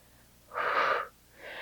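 A single breathy exhale during a side plank in a Pilates workout lasts about half a second and sounds like a close, airy whoosh, followed by the start of another breath.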